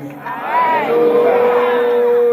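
A worship congregation raises a loud collective shout of "Hallelujah" in answer to a preacher's call, a sustained swell of voices with a sung tone carrying through the middle and end.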